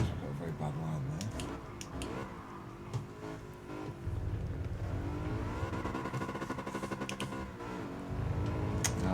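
A race car in Gran Turismo Sport revs hard through a short first gear, its engine climbing quickly toward the rev limiter, dropping, then rising again, with a voice talking over it.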